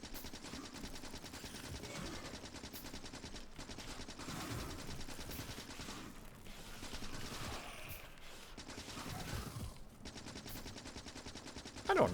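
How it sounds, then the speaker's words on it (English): Sustained machine gun or submachine gun fire in a video game, a continuous rattling stream running through the whole stretch at a moderate level. "Ignore the machine gun or the submachine gun fire."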